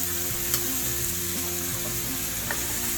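Chopped bottle gourd sizzles steadily in a hot frying pan, with a constant close hiss and faint stirring clinks, and no talking.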